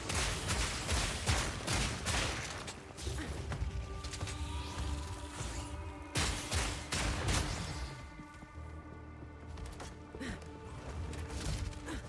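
Rapid bursts of crossbow-style fragmentation shots from Path of Exile 2 combat, loud and dense, with repeated impacts, clattering reload mechanisms and layered game effects.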